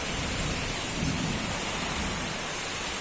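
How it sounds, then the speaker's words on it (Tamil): Steady heavy rain pours down as a broad, continuous wash with low rumbling underneath, suggesting distant thunder during a nighttime storm with a power cut; no voices are heard. "ஃபுல் மலை, சரியான மலை."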